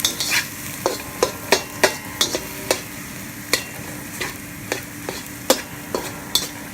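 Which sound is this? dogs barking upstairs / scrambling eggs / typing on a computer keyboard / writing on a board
scrambling eggs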